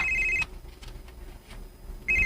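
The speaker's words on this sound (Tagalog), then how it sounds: "May bagting ang akong cellphone." A cellphone ringtone sounding at home, a bright electronic tone that rings, pauses for over a second, then starts again, close and clear with no talking over it.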